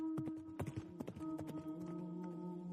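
Horse hooves clip-clop in uneven bursts as riders set off, with a sustained tonal music bed underneath and no talking.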